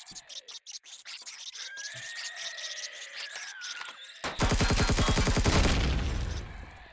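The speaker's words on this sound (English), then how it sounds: "Back to the shotgun." A shotgun in the sci-fi survival game Empyrion Galactic Survival booms out in a loud, close burst of dense crackling blasts following a few seconds of quieter squealing game sound.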